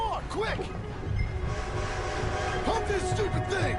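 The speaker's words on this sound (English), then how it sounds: "Arthur! A train!" A train rumbles and clatters in the Red Dead Redemption 2 video game, with a horn-like tone rising over steady rolling noise while voices shout over it.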